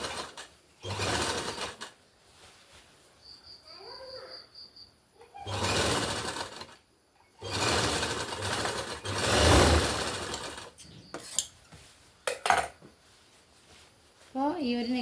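Sewing machine stitching the neckline of an umbrella kurti, running in several bursts of a few seconds each with short pauses between them, close and fairly loud.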